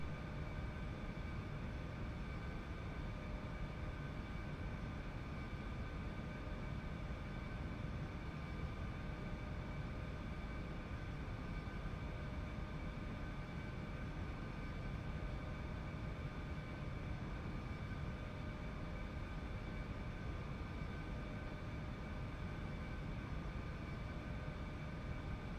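Eclipse jet cabin during descent, a constant steady roar of engine and airflow with faint tonal hum lines, unchanging throughout and without talk.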